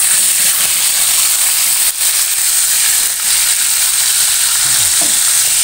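Salted asin rancung fish frying in a pan with a steady, loud continuous sizzle and crackle that holds throughout, with faint stirring or scraping touches and no voices.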